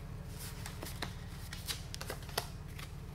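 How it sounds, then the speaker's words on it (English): Card decks for the Tiny Epic Mechs board game are shuffled by hand, a steady riffling with sharp snaps and taps, close up over a low hum, no talk. "We'll get these decks shuffled up so they're ready to rock and roll."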